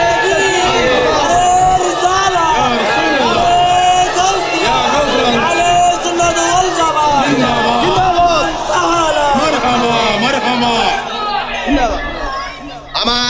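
A large crowd at a religious gathering raises a loud, dense chant in unison, voices overlapping in a continuous roar of shouted words that holds steady and near throughout.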